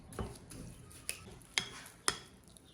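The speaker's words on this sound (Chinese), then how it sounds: "也用勺子给它压成泥。" A spoon presses and scrapes warm steamed purple sweet potato mixed with sugar in a bowl. There are a few soft thuds and three sharper clinks of the spoon against the bowl, spaced about half a second apart, and the sound is quiet and close.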